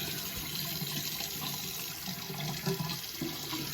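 Tap water runs steadily into a sink as it waits to heat up before a straight razor shave, a continuous close rushing hiss with no talking.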